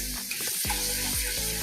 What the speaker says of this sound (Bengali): মশলাগুলো একটু ভালো করে ভেজে নেব।